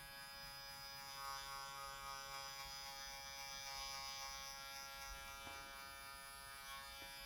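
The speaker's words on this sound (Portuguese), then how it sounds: "E agora eu estou trabalhando com a máquina, com o pente meio, totalmente fechado" An electric hair clipper with a half guard, fully closed, buzzes steadily while it cuts hair in a high fade. The hum is faint and constant, with no talking.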